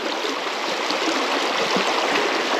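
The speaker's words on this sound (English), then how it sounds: "Wade in this river is gnarly." A little but treacherous rocky river, Badger Creek, rushes around an angler wading in it. The flow is a loud, close, unbroken roar of water with no talking.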